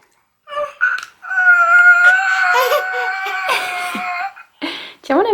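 A toy baby bottle lets out a wavering, electronic baby-crying sound that runs for several seconds at close range, with short bursts of adult talk and noise before and after it.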